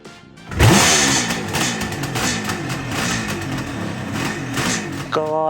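Honda CB500X motorcycle engine revving hard as the rear wheel spins in race mode, a loud, rising buzz with shifting harmonics, briefly dropping and climbing again near the end.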